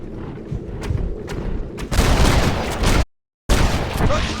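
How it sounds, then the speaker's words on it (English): Gunfire from a gun in Red Dead Redemption: faint sharp pops come first, then a loud burst of blasts. A brief total silence follows before another loud volley resumes. "It really sounds like a great gun."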